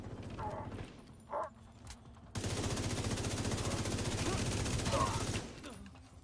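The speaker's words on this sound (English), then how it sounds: "Oh, that was a sniper turret up" Sniper turret firing in a video game: a short, loud burst of rapid gunfire that cuts in abruptly and runs for several seconds after quieter game noise.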